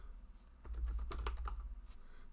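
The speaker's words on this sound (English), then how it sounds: "New keyboard as well, a little difficult to type." Fingers type on a Red Dragon computer keyboard in a quick, close run of soft key clicks, loudest in the middle and tapering off, with a quiet room hum underneath.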